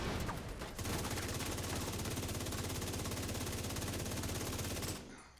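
Sustained rapid automatic gunfire in the shooter game The Division 2, dense and loud, running continuously for several seconds against a tank enemy before cutting off abruptly near the end.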